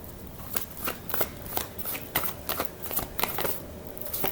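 Tarot cards shuffled by hand during a love reading, a run of crisp riffling bursts coming every half second or so, close and steady with no talk.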